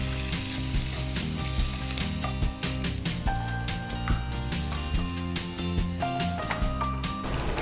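Curry leaves crackle and sizzle in hot oil for tempering while cooking a masala bread chaat, a steady loud frying hiss with small pops running the whole time over faint background music.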